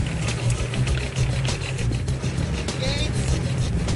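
A worn-out car in Cambodia rattles and rumbles continuously with odd mechanical noises, one wheel loose and close to falling off, a dense close engine and road drone throughout with voices talking over it.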